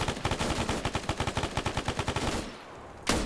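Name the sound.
MG3 machine gun fire in a video game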